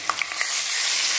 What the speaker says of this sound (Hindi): अब हम इसमें 1 चम्मच लहसुन अदरक का पेस्ट ऐड कर देंगे।